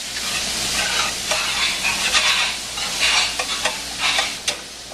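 Bolognese ingredients frying in olive oil in a pan, a continuous close sizzle broken by repeated scraping stirs of a utensil, with no talking.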